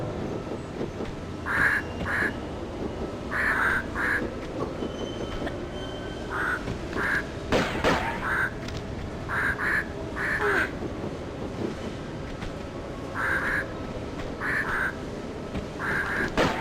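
Birds call in Tomb Raider 2 Remastered: short, repeated quacking chirps in pairs and small clusters over a steady, loud rumbling ambient drone, with no talking.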